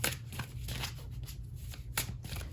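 Tarot cards being shuffled, a soft, close riffling and flicking of cards with a few sharper slaps, quiet and steady throughout.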